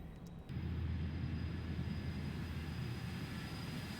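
Jet engines of a BAE 146 airliner on approach in a flight simulator give a steady, loud droning rumble that swells in after a brief quieter start.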